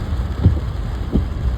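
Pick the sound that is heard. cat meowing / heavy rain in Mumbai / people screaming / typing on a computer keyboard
heavy rain in Mumbai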